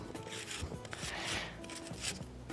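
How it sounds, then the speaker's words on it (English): Half an onion rubbed against a kitchen grater, a close, soft rasping scrape repeated in steady strokes, fairly quiet. "And I'll grate an onion, and I will grate only half of this onion"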